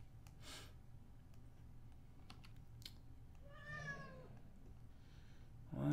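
A pet cat lets out a short, drawn-out meow at close range in a quiet room, preceded by a few soft clicks of computer keyboard typing.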